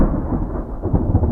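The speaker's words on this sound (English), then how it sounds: "There's one of our new thunder sounds." A new thunder sound effect from the Minecraft SCUR modpack, a loud, deep, dense rumble that rolls on steadily throughout with no voices.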